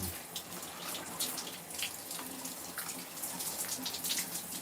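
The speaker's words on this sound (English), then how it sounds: "Take a shower." Water runs steadily from a shower, a close, continuous hiss and splatter with faint drips and no talking.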